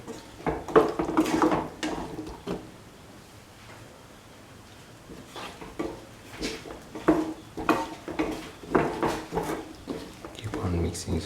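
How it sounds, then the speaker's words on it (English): A spoon stirs taro and tomato stew in a pan, making irregular clanks and scrapes against the metal in two busy bursts separated by a quieter pause, with a voice speaking at times. "Keep on mixing."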